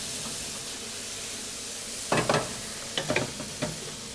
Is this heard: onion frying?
yes